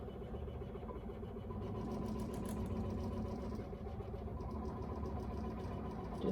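A Ricoma EM1010 embroidery machine runs a steady mechanical hum and whir as needle 1 traces the outline of a placemat design inside a Mighty Hoop, continuous and close, with no talking.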